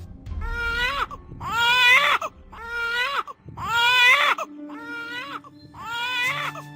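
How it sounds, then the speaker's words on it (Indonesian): A newborn baby cries in a rhythmic series of six wailing bursts with short breaths between them, close and fairly loud over a faint low background hum, in an illustrated horror story about a birth. "suara tangis bayi memenuhi ruangan tersebut"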